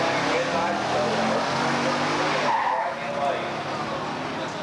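A 1963 Dodge Polara with a 426 Max Wedge automatic and a 1969 SC Rambler with a 390 four-speed roar down a drag strip, loud engines and tire noise fading near the end, while an announcer talks over them.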